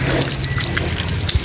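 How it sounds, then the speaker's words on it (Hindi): Water runs steadily from a tap, a close, fairly loud splashing stream with a brief thump near the end and no talking. "फुल येलो येलो पानी गिर रहा है इसके ऊपर से।"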